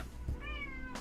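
Zelda the cat lets out one brief, clear meow close by, with a soft thump just before and a small noise after, no speech.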